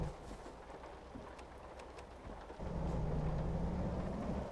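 Rain falls steadily in American Truck Simulator, a soft hiss of drops on the truck with a low engine rumble underneath that swells and grows louder partway through.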